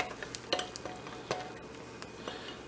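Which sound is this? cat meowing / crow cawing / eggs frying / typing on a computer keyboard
eggs frying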